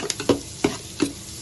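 Onion and garlic sautéing in a pan, with three quick, evenly spaced stirring scrapes over a soft, steady sizzle, close by.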